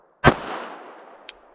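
A single sharp gunshot from a Smith & Wesson M&P pistol, fired close and loud, followed by a decaying reverberant tail and a faint second click near the end.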